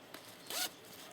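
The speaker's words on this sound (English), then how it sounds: "It's got a nice heavy metal zipper on it" A heavy metal zipper slides along a felted wool notions pouch in one quick, close pull, preceded by a faint small tug, with quiet room tone around it.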